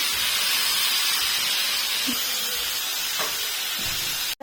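Fish sizzles in a hot pan during home cooking, a steady, loud, even hiss that carries on unbroken, with a few faint clicks and knocks before stopping abruptly.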